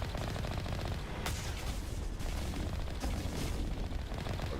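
Rapid, dense bursts of gunfire from the video game Mass Effect, continuous automatic-style shooting with sharp cracks standing out, loud and filling the whole stretch with no talk over it.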